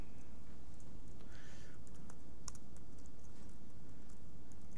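Scattered light clicks of a computer keyboard being typed on to control a simple Pong game in a web app, faint and sparse against a steady background hum, with no clear talking.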